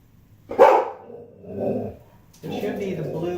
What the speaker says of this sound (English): Let me shut my door, my dog's barking.